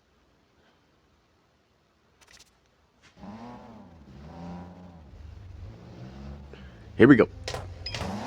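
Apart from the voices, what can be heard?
race car launching and accelerating in video game NFS No Limits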